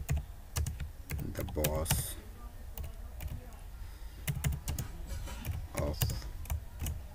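Fingers clatter on a computer keyboard while HTML code is entered, quick irregular clicks in bursts with short pauses, close and crisp beneath someone speaking.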